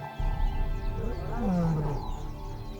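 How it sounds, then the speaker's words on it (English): Lions roar nearby in the wild, a deep, drawn-out growling call rising out of low rumbling ambience, close and fairly loud over about three seconds. "Ava can hear roaring nearby"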